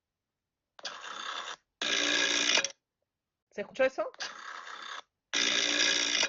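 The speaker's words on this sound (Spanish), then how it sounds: "así sonaban los teléfonos antiguos que tenían disco" An old rotary dial telephone ring played back from a phone app: several bright, buzzy bursts of ringing separated by short silences, with a brief spoken question between them.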